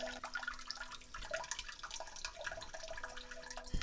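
A bidet's posterior wash sprays water onto a plate smeared with peanut butter, a close, uneven hiss and splatter with small dripping sounds and no speech.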